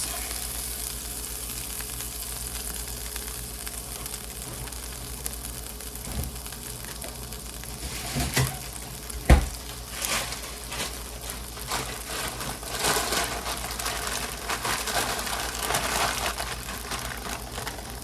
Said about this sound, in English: Put some more butter in the pan. Put some Trinity in the pan.